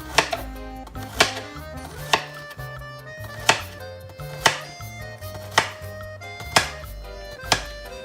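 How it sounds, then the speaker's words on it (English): A knife chops garlic thinly on a cutting board for anchovy pasta, giving eight sharp, evenly spaced knocks about one per second, close and clear over a soft background hum. "We're going to chop up the garlic"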